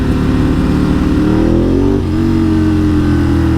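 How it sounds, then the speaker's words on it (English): A Ducati 1098 sport bike's engine revs loud and close in traffic, its harmonic note climbing steadily then dipping and settling into a steady throb, with no talking. "this is what it's like for me on a 1098. The bike just wants to go and go and go"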